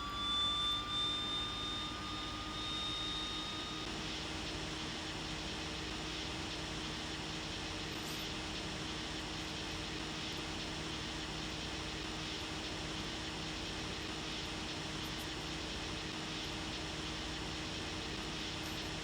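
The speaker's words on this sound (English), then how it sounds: "we'll push that fuel selector in, and our engine spools to life" A flight-simulator aircraft engine spools up steadily on start in a Greenland cockpit, a continuous whining jet roar with tonal rising whistles early on, holding a loud sustained drone throughout with no talk.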